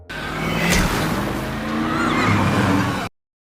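A car being flipped over during an attack: a loud continuous rumble of scraping and crashing with a sharp squeal-like burst early on, cutting off abruptly into silence.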